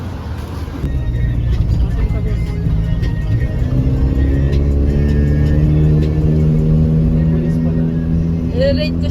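A car is driven on a road, with a loud low cabin rumble and engine hum that rises steadily in pitch as it accelerates, continuous throughout, with some faint clicks near the end.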